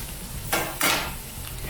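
A metal utensil strikes the rims of cooking pans twice in quick succession, sharp and close, over steady kitchen sizzling.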